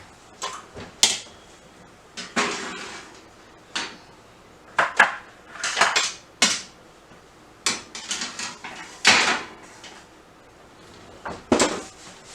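A madeleine pan goes into a kitchen oven, bringing a series of close, sharp metallic clunks and knocks spaced irregularly, with rattling pan and oven-rack contact, no talking.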